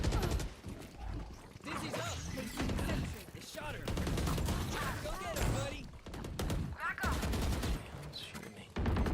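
Video game gunfire crackles in rapid bursts and fusillades across a chaotic firefight, loud and close, while players talk over the shooting.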